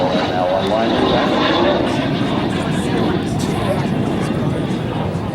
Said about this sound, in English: Fly once again in the L-39.